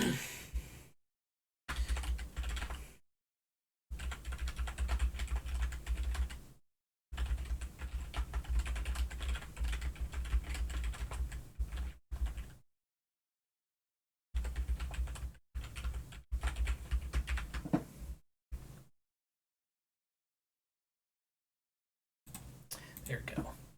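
Fingers type on a computer keyboard in rapid bursts of close, crisp clicks, broken by short silent pauses, faint and alone.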